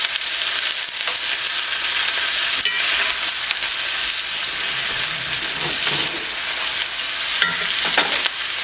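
Food sizzles steadily in a frying pan, cooking a couple of minutes per side, a loud continuous crackling hiss with occasional sharper pops and a stir near the end.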